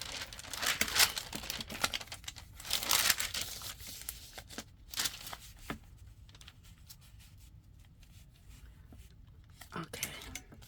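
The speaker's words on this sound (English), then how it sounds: "let's put a piece of vellum on there, which is nothing but a piece of parchment paper" Parchment paper, used as vellum for a junk journal folder, crinkles and rustles in bursts as it is handled up close, with louder crumpling early on and quieter scattered crackles later.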